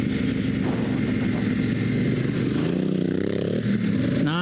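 An adventure motorcycle on Kenda Big Block dual sport tires riding a rocky, washed-out dirt road, loud engine drone with shifting pitch as it revs, mixed with clatter and scraping from the rough surface, close and continuous.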